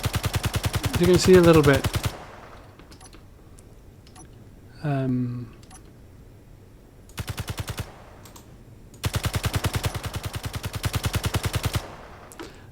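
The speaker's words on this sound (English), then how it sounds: "when I take my fire arm here and fire" A firearm fires in Space Engineers in long rapid automatic bursts, close and loud, split by gaps, with a brief voice speaking between bursts.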